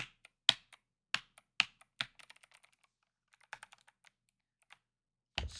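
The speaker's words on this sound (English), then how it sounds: "I have a keyboard right here." A handful of computer keyboard keys pressed while playing Braid, the WASD and space bar keys, heard as faint, close, irregular clicks and taps with pauses between bursts, a louder thump at the end, no speech.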